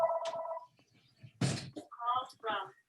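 A telephone rings a few times in a room where people are talking, its short bursts of ringing close by and mixed with the voices.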